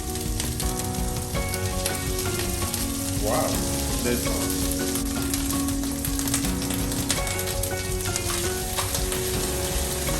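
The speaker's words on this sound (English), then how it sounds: "Oil in the frying pan again." Steady hissing sizzle of garlic frying in hot oil in a pan, dense and continuous throughout, with a brief voice speaking partway through.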